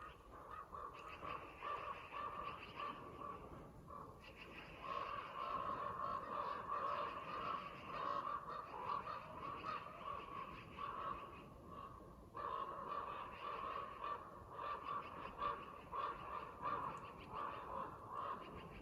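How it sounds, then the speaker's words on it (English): Several ravens calling repeatedly around a forested log cabin site, harsh croaking caws overlapping in a steady chorus at moderate distance against outdoor background noise. "All ravens are here. There's 3 pairs of ravens."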